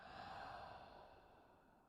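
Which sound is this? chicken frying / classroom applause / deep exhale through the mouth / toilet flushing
deep exhale through the mouth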